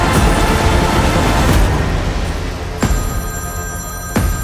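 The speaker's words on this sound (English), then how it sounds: "Pick up the phone, James!" A telephone rings in a movie trailer, a loud repeated bell-like ring standing out over a dense, busy backdrop of music and effects, with sharp hits punctuating it.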